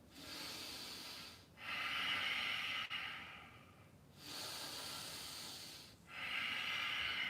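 During a humble warrior yoga pose, slow, deep breaths rise and fall in long, even cycles of inhale and exhale. The breathing is close and soft, with brief pauses between breaths and no talking.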